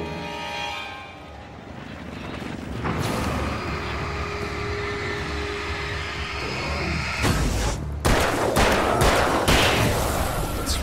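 Gunfire in the video game Alan Wake, a dense sequence of sharp shots and bursts over a noisy rumbling game soundscape, with louder, closer blasts clustered near the end.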